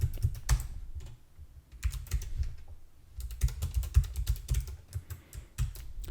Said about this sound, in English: If I just type a lot of numbers here